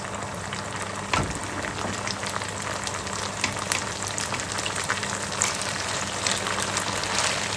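Sarson ka saag tipped into a hot tadka, with a brief thump as it lands and then a steady, close sizzle and crackle that holds evenly throughout.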